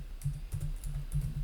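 A computer keyboard clatters quietly as a name is typed, a quick irregular run of soft key taps close by.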